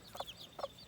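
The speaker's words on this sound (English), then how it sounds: "golden lace Serama, the British chicken, British breed" Golden lace Serama hen giving two quick soft clucks, close by and fairly faint.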